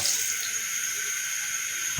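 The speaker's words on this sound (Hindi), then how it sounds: "अभी हम 2 गिलास में पानी ऐड करते हैं" Water pours steadily into a cooking pot, two glassfuls for a mixed vegetable pulao, a continuous close hissing splash that holds at an even level throughout.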